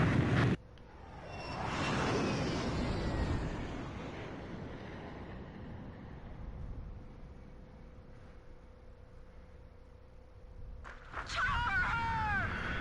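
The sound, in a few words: Sukhoi Su-27 fighter jets flying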